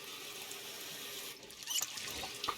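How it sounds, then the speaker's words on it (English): Tap water running into bottles in the Project Zomboid game, a steady close hiss of flowing water with a few brighter splashy trickles and squeaks toward the end, no talking. "I'll just collect a whole heap of bottles and fill them full of water"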